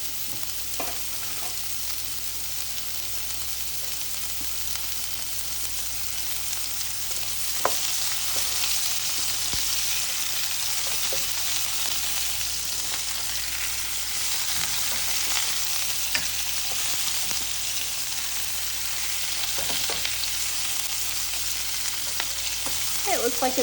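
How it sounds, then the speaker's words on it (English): Plant-based meat sears in hot oil in a pan, giving a steady, loud sizzle that runs unbroken for over twenty seconds, with occasional soft clicks of a utensil stirring. "It looks like it's getting a pretty good sear"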